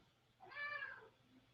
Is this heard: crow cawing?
no